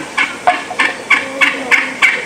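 Wild turkey gobblers gobble at first light near a tank bed, six or seven rapid rattling calls in a steady rhythm, close and loud, with no talk.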